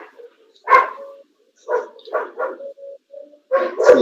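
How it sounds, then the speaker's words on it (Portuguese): A dog barks a few times through an open microphone during an online meeting, sharp close yaps in short bursts separated by pauses. "Quem é que está com o microfone aberto que tem um cachorro aqui?"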